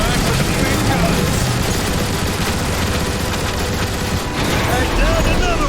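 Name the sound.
gunfire from video game Transformers: War for Cybertron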